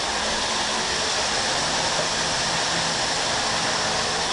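Hot water pouring steadily into a slow-draining sink, a constant loud rushing hiss with no breaks and no voices.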